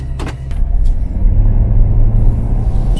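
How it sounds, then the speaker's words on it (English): An RV rolls along the road, heading east into the sunrise, with a loud, close, continuous low rumble of engine and tires and a few brief clicks and knocks at the start. "I am driving to the east into the sunrise with my RV"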